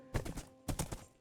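Two quick bursts of horse hoofbeats clop in the Minecraft video game while the horse is ridden, short soft thuds grouped closely together, fairly quiet.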